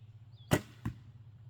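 A shot from a Big Stick Assassin hunting bow loosing a heavy 600-grain arrow: a sharp thump at release, then a second, softer knock a moment later, with nothing else over a quiet background.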